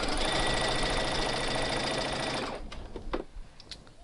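A sewing machine stitching rayon fabric runs in a loud, fast, steady mechanical whir for a couple of seconds, then stops, leaving a few clicks and handling noises.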